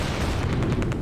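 Explosions and heavy gunfire in the Close Combat: A Bridge Too Far war game as a tank is destroyed, a dense, loud barrage of booms and blasts rumbling continuously with rapid repeated cracks.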